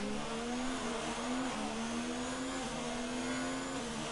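A Ferrari and a Haas F1 race car in a racing video game give off a steady, droning engine whine that shifts pitch in small steps, continuous and fairly loud with no voices.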